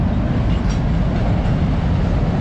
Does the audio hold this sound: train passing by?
yes